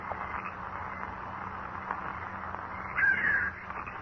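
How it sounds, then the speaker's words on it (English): A trained falcon cries out in a radio drama, a sharp raspy call rising briefly near the end over a steady hiss and low hum of background noise. "That's not an eagle. It's a falcon, a trained hawk."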